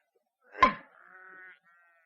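A single sheep bleats close by on a farm with a straying flock near a broken fence, one loud wavering call with a sharp onset, then a softer trailing bleat that fades out in otherwise quiet surroundings.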